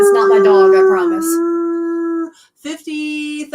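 A crowd of people across the Denver metro area howls like dogs at 8 o'clock, giving loud sustained wavering howls that break off briefly and then resume, with several voices overlapping.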